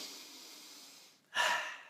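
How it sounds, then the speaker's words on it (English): A single deep breath drawn in close to the microphone, a soft airy inhale rising suddenly after a quieter steady exhale, with no talking. "Can I breathe deeper right now?"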